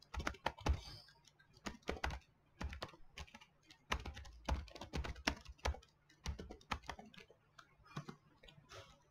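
Typing a name on a computer keyboard: quiet, close key clicks in quick irregular bursts with brief pauses between words, no voices.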